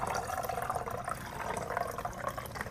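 Lukewarm water poured steadily from a container into a small vessel, a continuous close splashing trickle with bubbling gurgles throughout.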